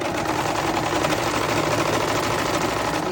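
An overlocker runs at steady speed sewing a gather with raised needle and looper tensions, a loud, close, continuous rapid mechanical whir with no talk.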